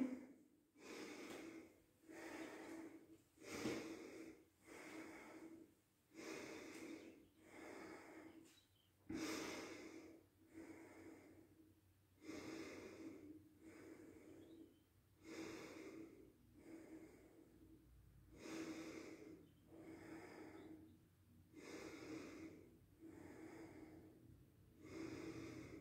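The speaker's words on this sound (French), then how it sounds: "Essayez de rester dans une respiration par le nez." Repeated nasal breaths during a yoga kriya exercise, about a dozen forceful in-and-out cycles in a steady rhythm, close and fairly loud, with no talking.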